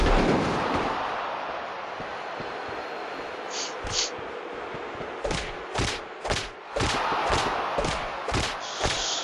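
Repeated punches landing in a wrestling video game, a series of sharp thuds roughly every half second in the latter half over a steady crowd-like roar.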